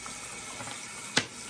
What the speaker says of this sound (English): Get it wet with the warm water. Turn it down just a little bit.